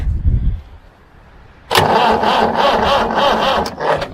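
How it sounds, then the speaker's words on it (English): The starter motor on a vintage David Brown 990 tractor cranks the engine over. After a quiet pause with a low rumble, a loud, rough, churning drone kicks in abruptly and carries on steadily to the end. "That starter motor's turning it over."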